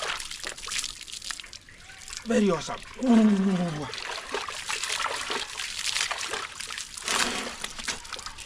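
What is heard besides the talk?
water trickling while showering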